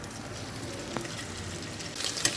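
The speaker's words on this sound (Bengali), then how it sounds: "পনিরটাকে আগে ছেড়ে দেবো।" Paneer dropped into hot oil mixed with a little ghee gives a steady, moderate sizzle and frying hiss throughout, with a brief tap partway and a brighter crackle near the end.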